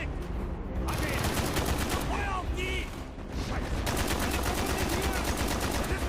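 Gunfire in the Call of Duty: Black Ops campaign mission "Project Nova": loud, sustained automatic bursts with rapid rattling shots, a brief lull near the middle, then the firing resumes.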